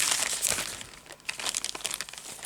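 A plastic bag crinkles and rustles close up as scarf material is stuffed into it, with dense irregular crackling bursts that briefly dip midway, then resume in choppy handling noises.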